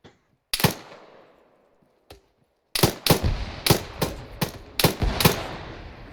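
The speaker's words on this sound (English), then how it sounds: "Sounds like grenade fire coming from over there somewhere" Grenade launcher fire during a military field training exercise: several sharp, loud blasts, a few isolated at first, then a rapid irregular string of bursts, heard outdoors with no talking.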